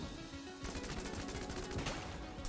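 The Dragon Fire gun in Enter the Gungeon fires in a dense, continuous roaring barrage that starts abruptly and keeps crackling loudly for over a second with no pauses.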